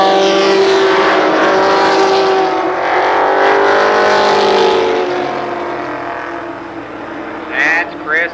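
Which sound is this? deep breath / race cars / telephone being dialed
race cars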